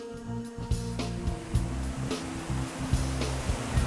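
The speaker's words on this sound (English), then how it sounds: "Nice little cascade." Small waterfall cascading along a woodland stream lined with wildflowers and trillium: a constant, moderate rush of falling water, with a low rumble and occasional splashes.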